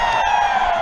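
Rugby crowd at a Kandy SC versus Navy SC Clifford Cup match reacting to a knock-on call, a sustained wash of shouting and cheering voices, loud and steady throughout.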